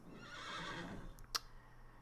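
A pony whinnies in the Wartales medieval role-playing game, a neigh rising out of a steady low hum and fading ambience, followed by a short bright tick.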